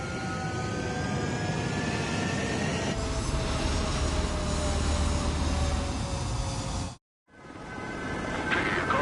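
A fighter jet takes off in Ace Combat 7, its engine roaring loud and steady with a rising whine, then cutting off briefly before the roar returns.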